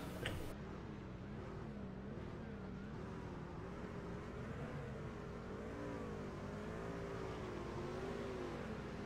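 Race trucks roll down pit road at an All Pro Racing event in Las Vegas, a steady engine drone with wavering pitch that stays even throughout, heard from a distance without talk.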